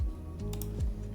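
Brief clicking on a custom W70 mechanical keyboard, a couple of sharp key strikes heard close over a low droning background with tonal hum.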